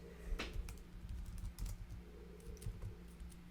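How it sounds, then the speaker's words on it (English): Rapid, uneven clicking of keys on a new computer keyboard, close and fairly faint, with a steady low hum underneath and no talking. "I can't type. Yeah, new keyboard."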